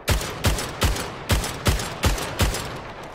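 A gun in the video game Splitgate fires at a training dummy, shots coming one after another in a steady rhythm of about two or three per second, each a sharp crack with a short boom.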